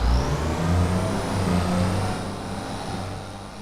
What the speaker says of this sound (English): We're going to use the tractor that's there.